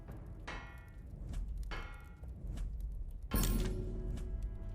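Hammering a sword blade at a forge in the video game Bladesong: a few loud, ringing impacts spaced about a second apart over a steady rumbling background, the last strike heaviest.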